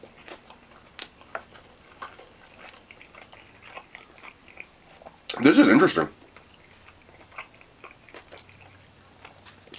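Someone biting into crunchy Filipino fried chicken thigh, one loud crisp crunch in the middle followed by softer chewing clicks, close up, with a brief spoken remark nearby.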